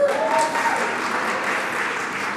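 Audience applause at a behavioral health gathering, a steady dense wash of clapping from a crowd that holds at even loudness throughout with no voices over it.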